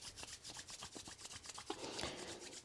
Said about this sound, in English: bring the palms of the hands together and rub them together